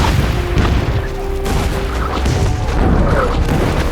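Bombing explosions in a war drama set in the Pacific: a steady, dense rumble of distant blasts and booms running continuously and fairly loud, with no clear single impacts standing out.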